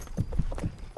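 Horse hooves clip-clopping along a road, three or four soft rhythmic thuds at a walking pace, close and fairly muffled with no talking over them.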